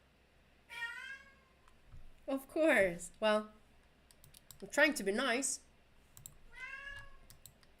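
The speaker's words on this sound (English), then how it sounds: "you hear the cat in the background. He's talking because he's frustrated." A cat meows several times in the background, drawn-out frustrated cries spaced across the clip, while a person talks and keyboard clicks sound nearby.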